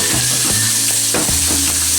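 Garlic paste hits hot oil with tomato and onion in a pan while cooking Rajasthani moong curry, giving a loud, steady, close sizzle and crackle with a few scraping stirs, no voices.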